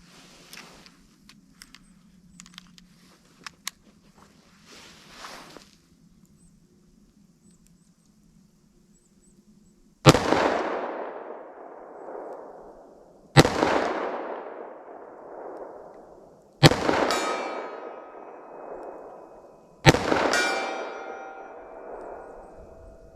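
Four sharp, loud 9mm or .38 Special gunshots from a short-barrel handgun, spaced a few seconds apart with ringing decay, following quieter handling clatter and faint distant clicks.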